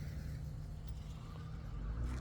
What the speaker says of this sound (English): So there's a car.